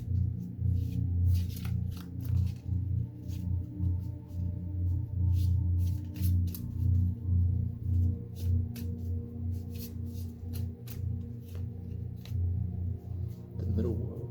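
Shaman Oracle cards are shuffled by hand in a long run of soft riffling and sliding, with sharp flicks and taps over a low steady background hum.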